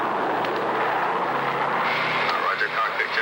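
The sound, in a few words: C-124 aircraft engines flying in ice fog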